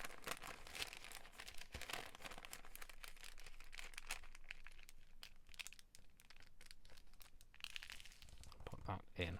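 Paper is folded and creased by hand while making a gusseted paper bag, giving bursts of crinkling and crumpling that come and go across the span at close range, with soft handling noise between them.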